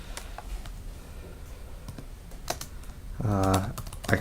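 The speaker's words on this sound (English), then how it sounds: "I can just go ahead and type that in." Scattered keystrokes on a computer keyboard click close by in uneven bursts, and a short stretch of a voice breaks in near the end.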